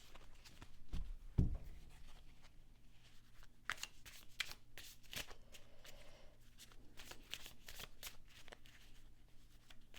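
Tarot cards being shuffled by hand: bursts of quick riffling and slapping card sounds through the whole stretch, close and fairly quiet, with a few louder knocks early on.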